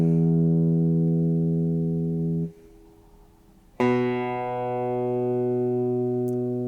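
A guitar's low E string in EBE tuning is plucked and rings with a sustained tone, then fades into a short near-silent gap before a second pluck rings out again, clean and close.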